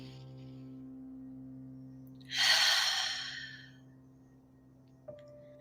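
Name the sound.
deep breath in and exhale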